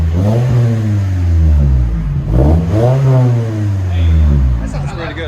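A 2019 Toyota Camry SE with its four-cylinder engine and the muffler deleted revs up and down several times, a loud, raspy exhaust note rising and falling in close succession.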